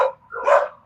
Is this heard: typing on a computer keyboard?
no